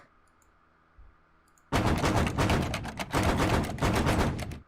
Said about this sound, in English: The sound of people banging on the door.